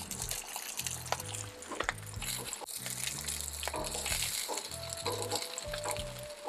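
Pepperoni slices toasting in a hot pan give a steady sizzle and crackle. Low thuds and clatter from the pan and utensils come and go over it, and a few brief high tones sound faintly.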